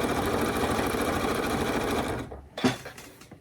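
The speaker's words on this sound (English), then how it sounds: "And then I'm going to just start stitching again." A sewing machine stitches binding onto a baby quilt, a fast close mechanical rattle running steadily, then stopping with a brief clunk and a short restart.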